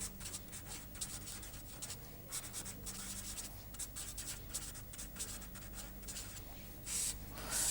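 Chalk or marker writing on a board during a chemical engineering lecture, a quick series of close scratching strokes with short pauses between them, faint and without talk.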